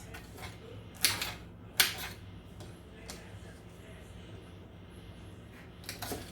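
A small, sharp kitchen knife chops food on a cutting board in a home kitchen, giving a few crisp, close taps at irregular intervals over a quiet room background.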